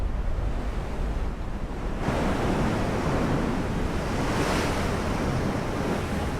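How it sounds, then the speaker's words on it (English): A shell lands in the water in the naval game Ultimate Admiral: Dreadnoughts with a big splash, a sudden broad rush of spray over constant roaring sea and wind noise that continues throughout. "Big splash."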